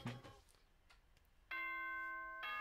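Danganronpa morning announcement chime, a bright sustained multi-tone bell ringing out clearly after a brief quiet stretch of faint game sounds.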